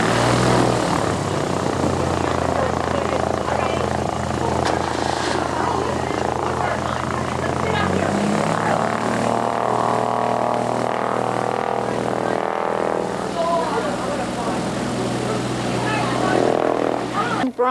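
A small airplane coming in to land, its propeller engine droning loudly and steadily throughout, with the pitch shifting partway through, while people talk and chatter close by.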